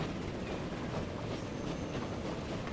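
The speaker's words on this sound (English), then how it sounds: "we've got to wait for that train to pass this signal here before we'll move forward" A train rolling past a signal in Transport Fever 2, a dense continuous rumble of wheels on track held at an even loudness throughout.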